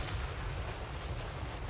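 Lead Belcher cannons firing in the Total War Warhammer 3 battle, a dense continuous barrage of booming blasts and crackling detonations blending into a loud rumbling wash with no distinct pauses.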